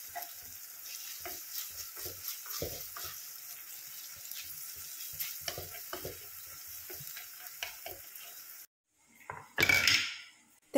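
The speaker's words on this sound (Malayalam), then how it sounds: "ഈ ബാക്കി സൈഡിൽ നമുക്ക് ഇഞ്ചി വെളുത്തുള്ളി പേസ്റ്റ് ഇട്ടിട്ട് അതൊന്ന് നന്നായി മൂപ്പിച്ചെടുക്കാം" Ginger garlic paste frying in a pan, a continuous close sizzle with spoon scrapes and clatter of pots, ending with a short burst of running tap water after a brief pause.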